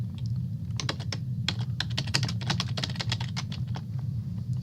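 Fast, steady typing on a computer keyboard, close and crisp, with dense irregular key clicks over a constant low hum.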